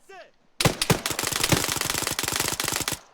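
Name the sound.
gunfire in the video game Arma 3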